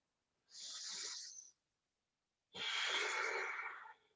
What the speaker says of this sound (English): Really nice, deep breathing